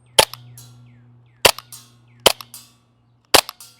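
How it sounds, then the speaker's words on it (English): An airsoft rifle fires 0.3 BBs in four sharp, loud cracks spaced about a second apart, each with a brief trailing rattle, over a low steady hum. "Let's see if we got it zeroed in now."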